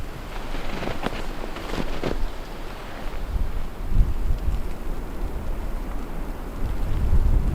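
Gusty wind blows across open ground in bitter cold around −26°C, a loud buffeting rush against the microphone with brief sharp bursts, surging and easing over several seconds without speech.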